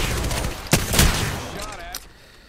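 Rapid bursts of gunfire in the video game Apex Legends crackle loudly, with sharp shots near the start and a heavier volley around the middle, then trailing off amid game sounds.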